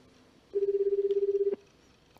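A phone in the video game Chaos;Head Noah gives one warbling ring lasting about a second, loud and clear over a quiet background.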